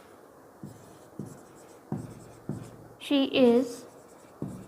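Pen or chalk strokes tapping and scratching out an example sentence, several short separate marks in an uneven rhythm, with a brief spoken word in the middle.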